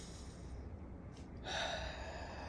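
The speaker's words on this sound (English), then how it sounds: "Take our deep breath again" A person draws a deep breath during a guided meditation: a soft airy inhale, then a louder rush of breath, close and quiet, with no voices.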